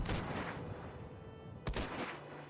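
A cannon fires in Minecraft: a loud, sharp blast cracks out partway through over a steady, dense background of game noise, with a rumbling tail after the hit.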